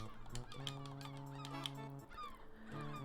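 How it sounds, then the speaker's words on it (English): Honking bird calls, goose-like, from gulls attacking in the video game Lucy Dreaming, sounding over steady synthesized game music with long held tones throughout. "You're about to get attacked by gulls."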